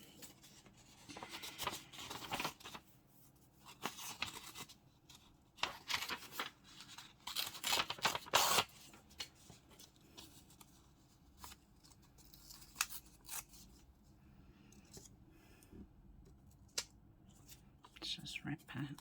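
Paper being torn from a book page for journal embellishments, a series of short irregular ripping and rustling bursts, faint and close, with a person speaking quietly in between.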